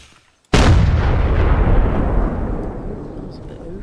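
A cannon in the game Musket testing fires one sudden, very loud boom that rolls into a long, slowly fading rumble after a brief quiet lead-in.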